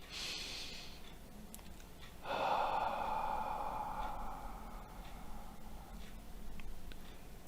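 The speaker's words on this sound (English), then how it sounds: "Let's go ahead and take a deep breath in" A single deep breath drawn in slowly, quiet and close, with a soft airy rush that swells and holds for several seconds.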